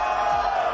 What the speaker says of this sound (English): G2 winning the crowd screaming challenge?